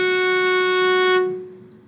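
A single sustained bowed F sharp on a string instrument, steady and clear for about a second before fading into room ambience.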